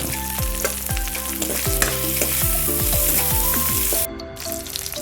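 Leftover fried food from the morning is reheated in hot oil, sizzling steadily and loudly, with the scrape and clatter of a stirring utensil striking the pan repeatedly, then a brief drop in level near the end.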